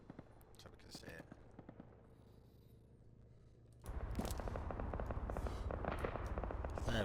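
ARMA 3 gunfire: sparse distant shots early on, then a loud sustained stretch of rapid automatic fire and crackling impacts, with someone talking faintly in places.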